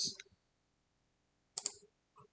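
Two distinct mouse-click bursts on a computer, separated by about a second and a half of silence, with a faint extra tick near the end; close and crisp.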